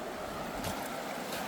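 River water rushes through a gold-prospecting sluice box running at high flow, a steady, close, broadband wash that stays constant throughout.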